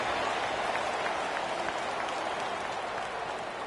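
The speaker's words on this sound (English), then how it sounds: "this crowd is buzzing after that last score" Crowd in a college football video game, Tennessee at Missouri, making a steady, broad stadium roar that holds at an even level with no clear voices.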